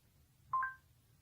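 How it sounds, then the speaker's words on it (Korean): A KakaoTalk message notification chimes once on a phone, a single short, faint electronic tone with no talk around it. "카톡."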